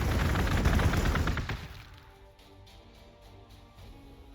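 Rapid gunfire from Chaos Space Marines in the strategy game Warhammer 40,000: Gladius – Relics of War. A dense, loud burst of shots fills the first second and a half, then fades to a quieter battlefield rumble with a few faint pops.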